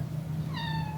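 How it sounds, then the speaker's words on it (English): Oscar, a pet cat, gives a single short meow in the second half, heard close and clear over a steady low indoor hum in an apartment. "Here's the kitty, Oscar."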